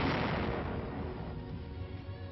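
Mortar and artillery shells bursting in heavy World War II frontline combat, a dense, continuous roar of blasts and rumble with no pauses.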